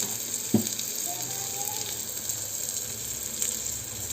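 Onions frying in a pan with salt for mutton curry, giving a steady low sizzle with faint watery crackle throughout, plus a single brief knock near the start.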